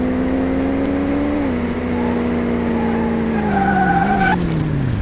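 Engine whine holds a steady tone and slowly drops in pitch, with tires skidding in a racing game, Car Mechanic Simulator 2018, ending in a brief high burst at the close.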